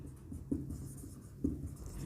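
A pen scratches across paper while trigonometric identities are worked out, a soft continuous scribbling with two sharper taps, close and steady, with no talking.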